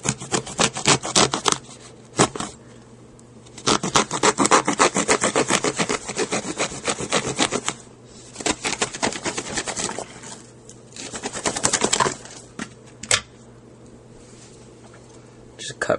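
A serrated Spyderco Pacific Salt H-1 knife saws through rubber-lined 2-inch structural hose, making bursts of rapid, loud rasping strokes with short pauses between runs.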